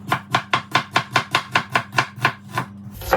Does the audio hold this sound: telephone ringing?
no